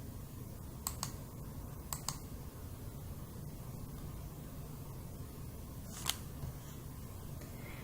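Computer mouse clicks, a few sharp isolated taps in pairs and singles, sit over a quiet steady room hum with no talking.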